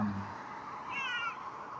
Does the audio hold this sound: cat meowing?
yes